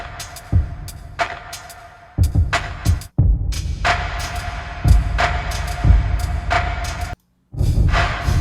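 A drum pattern processed with dry large room reverb, punchy low kick thumps and crisp snare hits over a sustained tonal hum, loud and close, pausing briefly near the end, with no voices.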